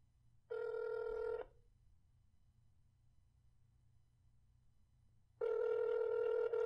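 A telephone rings out on an outgoing call, heard as a steady electronic ring tone in two separate bursts with a quiet gap between them, fairly close and clear, with no one talking.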